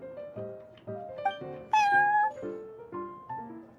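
Prince the cat meowing in a video game: a run of short, clear, tonal meows in quick succession, one longer and higher-pitched in the middle, close and with no talk.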